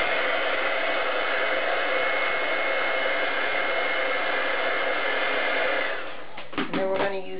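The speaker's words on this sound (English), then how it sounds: "Then we want to heat set this when we're done to make sure that it's dry" A heat tool blows steadily to heat-set metallic green paint on a crafted primrose card, a loud continuous whooshing hiss close by that cuts off near the end, leaving faint handling sounds.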